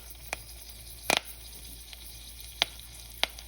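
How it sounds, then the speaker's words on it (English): Mustard and cumin seeds drop into hot oil in a pan, giving a soft steady sizzle broken by a few sharp pops and crackles, close and without talk. "in a hot pan here, I'm going to add in some oil. Once it gets nice and hot, I'm going to drop in our mustard seeds, our cumin seeds"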